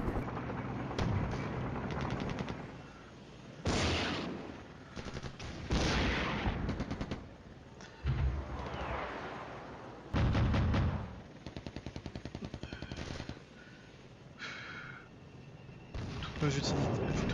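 Cannon fire and gunfire from the Cold War wargame Flashpoint Campaigns come in loud repeated bursts and booms, some rapid machine-gun rattles, with people talking over the combat between shots.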